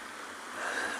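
Small waves break onto rocks in a steady hiss of surf, close and moderately loud, swelling slightly toward the end of a very brief stretch.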